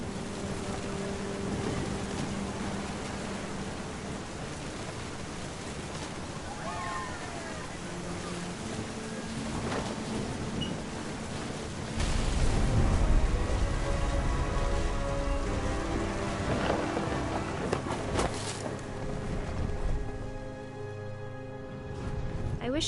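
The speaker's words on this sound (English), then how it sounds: "The thunder sounded much too close and full of angry power." Steady rain pours in a stormy scene from the video game What Remains of Edith Finch, a dense continuous wash with a deeper rumbling swell partway through, while a voice speaks over it.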